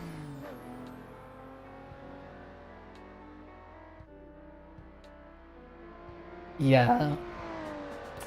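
Car engine in the racing game Assetto Corsa, driven with a manual gearbox, drones steadily under ongoing talk, then rises into a brief loud rev near the end.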